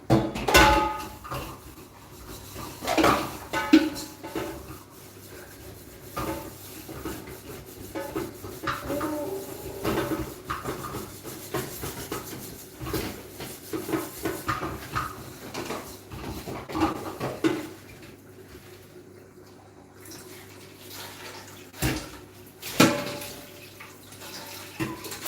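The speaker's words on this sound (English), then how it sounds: "So I'm just washing the pot" A cooking pot is washed at a sink, with running water, scrubbing and metallic clanks of the pot recurring irregularly over about twenty-five seconds, close and moderately loud.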